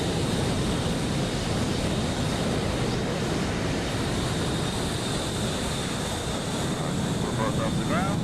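F-18 Blue Angels jet in the DCS flight simulator, a steady, loud, broadband engine roar held throughout while flying in formation, with no breaks or talk.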